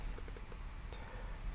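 Quick, light clicks of typing on a computer keyboard, a short run of close keystrokes followed by a few scattered taps.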